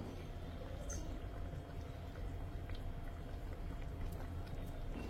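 Bengali tangra fish curry gravy boiling in a pan over high heat, a quiet, steady, dense bubbling hiss that continues without a break; no talking.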